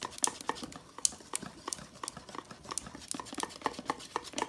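Red velvet cake mix is beaten in a bowl, giving quick irregular clinks and scrapes of a utensil against the bowl, soft and close, with no talking.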